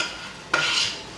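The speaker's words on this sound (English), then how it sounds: "Get this all nice and stirred up." A spoon or spatula scrapes and stirs sloppy joe meat in a pan, a brief scraping burst that starts abruptly mid-clip and lingers with faint sizzle, close and fairly loud.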